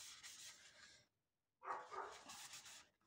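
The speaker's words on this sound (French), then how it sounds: "je suis désolée si vous entendez, c'est la chienne de ma fille qui est partie en vacances" A dog in a home keeps barking faintly in the background, a burst of yelps, then a short silence, then more barking.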